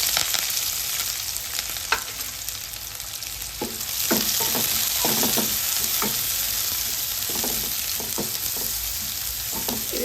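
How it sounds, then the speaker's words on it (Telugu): Thinly sliced onions fry in hot oil in a kadai, a steady close sizzle broken by occasional crackles and scraping stirs, with no talking. "నూనె కాగుతుంది. ఇప్పుడు అందులో అయితే మనం ఉల్లిగడ్డలు సన్నగా కట్ చేసి పెట్టుకున్నాం కదా"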